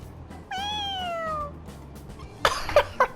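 A cartoonish cat in the video game Persona 5 Royal gives one drawn-out, clear meow that bends downward, followed by a brief burst of brighter clattering sounds at the end.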